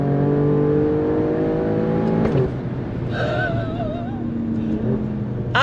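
A 2022 Alfa Romeo Stelvio Quadrifoglio SUV engine revs hard in second gear accelerating out of a right-hand bend, a loud close rising roar with a sharp gearshift break midway before pulling on strongly.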